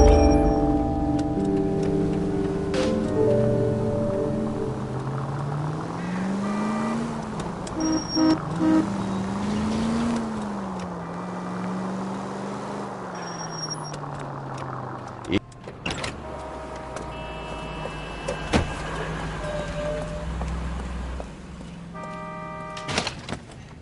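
A car driven in L.A. Noire, its engine drone rising and falling in pitch as it speeds and shifts, with scattered ticks, clicks and a horn-like tone over steady road noise.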